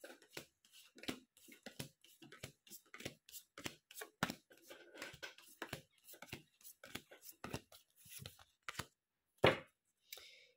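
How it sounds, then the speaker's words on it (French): A deck of tarot cards is cut and shuffled by hand in a quiet room, giving a rapid, irregular string of soft riffling snaps and taps, close and fairly faint, with a louder slap near the end. "Je coupe et je coupe."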